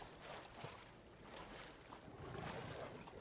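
Smilodon wading into water in the Prehistoric Kingdom sandbox game, a soft continuous splashing and watery swish with a steady breezy wash around it, moderate and unbroken, no talking.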